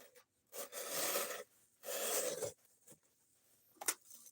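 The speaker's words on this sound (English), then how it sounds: "Okay, she slices fairly easy." A handmade knife with a flat-to-steep-convex grind drawn through material in a cutting test, two rasping slicing strokes followed by a few short scrapes and a sharp tick.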